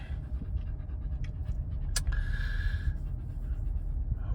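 A dog pants in quick, soft rhythmic breaths close by inside a vehicle on a local drive, with a brief higher squeak or whimper near the middle and no talking.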